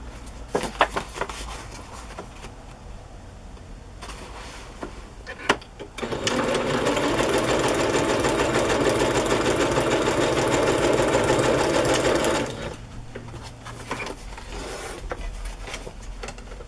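A sewing machine stitching through journal pages, starting after a few clicks and handling noises, running steadily with a loud close whirring drone for about six seconds before stopping, with a voice talking around it.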